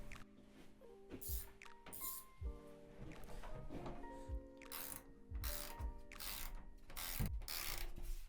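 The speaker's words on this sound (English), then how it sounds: "make sure the latches line up, and then tighten the hardware" Latch hardware on a Lifetime 8' x 5' compact modern shed door is tightened, with repeated ratcheting clicks and metallic clinks coming in bursts, close and fairly loud.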